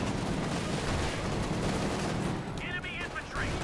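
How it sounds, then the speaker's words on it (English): A Pershing tank fires on an MG34 position in Company of Heroes 2, with dense, continuous battle gunfire and blasts filling the whole stretch, loud and steady, a brief crackle rising near the end. "Pershing is going to obliterate that MG34 on this shot."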